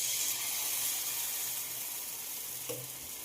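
Steady hiss of food frying and sizzling in a pan, close and continuous with a faint clink near the end and no voices.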